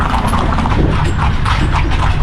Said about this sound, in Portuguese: a carroça vai passando por ruas estreitas, balançando de um lado para o outro, ao som das ferraduras dos cavalos